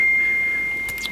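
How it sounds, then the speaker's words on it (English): A mobile phone chimes a steady electronic notification tone that holds one pitch for about a second, with a quick chirpy blip near the end, heard alone in a quiet room. "Excuse my phone, I'm just going to mute it."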